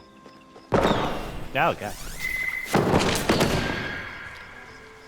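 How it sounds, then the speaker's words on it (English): A Phoenix firework goes off in the video game Palia with a sudden loud burst, followed by whistling crackles and a second bang that trails into a fading rumble, while a voice reacts briefly. "I think that's that Phoenix firework."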